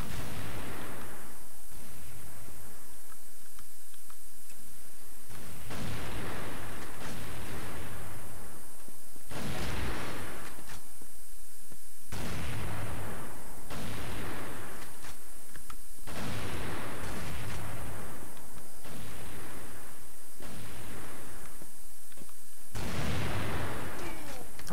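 Rapid gunfire bursts from the shooter game CrossFire on the Prisão map, loud repeated volleys separated by short pauses in a regular rhythm, with a player speaking faintly at times.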